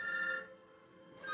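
A telephone rings in a kitchen during taco cooking, a steady electronic trill that breaks off partway and starts again near the end, fairly quiet and with no voices.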